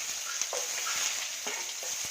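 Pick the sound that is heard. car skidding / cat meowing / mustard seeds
mustard seeds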